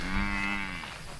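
A red white-faced cow on a farm lets out a single close, drawn-out moo, loud at first and then tapering off within about a second.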